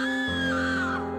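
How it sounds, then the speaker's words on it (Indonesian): A person lets out a loud, sustained scream that rises sharply and holds for about a second, close and piercing, with no talk. "Dia menjerit."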